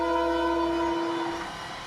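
Tazara passenger train running in Tanzania, a steady horn-like tone held for about a second over a continuous rumbling rail roar, alone with no talk.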